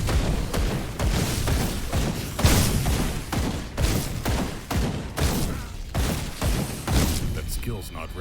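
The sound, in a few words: staccato gunfire in video game Grim Dawn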